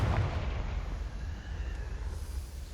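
A Confringo fire spell going off in a Harry Potter video game, a deep rumbling blast with a low boom at the start that rolls on and slowly fades, loud and close with no talking.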